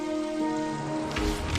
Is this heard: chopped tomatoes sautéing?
no